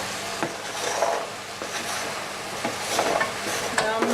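Vegetables are tipped into a pan of browned beef for a cottage pie and stirred, giving a steady close sizzle with scraping spoon strokes and soft knocks against the pan.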